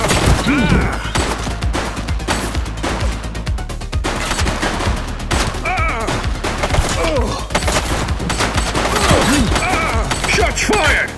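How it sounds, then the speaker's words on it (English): Rapid gunfire from the police video game The Precinct, dense bursts and single shots cracking continuously over eleven seconds, loud and close, with shouted voices mixed in. "Shots fired!"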